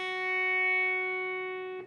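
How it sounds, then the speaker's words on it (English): A single sustained electric guitar note picked on the second fret of the high E string, ringing clear and steady for nearly two seconds with a soft fade. "I'm going to pick the high E string only. I'll be playing the 2nd fret of the high E."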